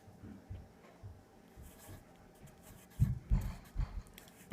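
Pen or pencil writing a fraction on paper, a few soft scratchy strokes and taps that grow louder and denser toward the end, close and quiet with no talk.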